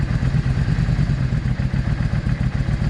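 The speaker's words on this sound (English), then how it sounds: "I'm gonna idle her up just a fraction." Close and loud, a Yamaha V Star 650 motorcycle idles with a rapid, even low thumping pulse and light mechanical clatter, steady throughout with no talking.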